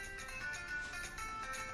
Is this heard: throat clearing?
no